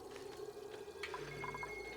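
Water falling and draining through an opening in Oxygen Not Included: a short, steady pouring, trickling flow with faint dripping tones, quiet and alone.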